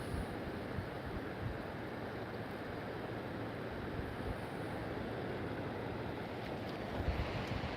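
Broad, steady roar of ocean surf mixed with gusting wind buffeting the microphone, continuous and close for several seconds with no speech.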